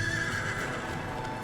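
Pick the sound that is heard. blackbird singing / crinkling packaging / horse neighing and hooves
horse neighing and hooves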